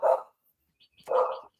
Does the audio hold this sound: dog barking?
yes